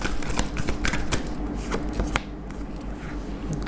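Tarot cards riffle and slap in a quick, crisp shuffle close by to draw another card, a brisk flurry of papery clicks with no talk.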